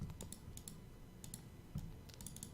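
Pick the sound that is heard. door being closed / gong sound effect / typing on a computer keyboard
typing on a computer keyboard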